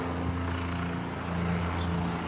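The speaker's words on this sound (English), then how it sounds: "with the helicopters hovering around, looking for someone" Police helicopters hovering over the Bronx, a steady low rotor drone and engine hum that stays continuous and fairly distant throughout, with no talk over it.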